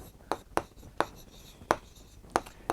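Chalk or marker taps and strokes on a classroom board during a math lesson, sounding as six sharp, fairly faint clicks at an uneven pace over quiet room tone.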